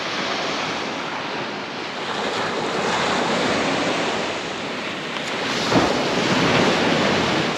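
Ocean waves surging onto an island shore as the tide comes in, a steady loud wash of surf with wind buffeting the microphone throughout and a slightly stronger wave breaking near the end.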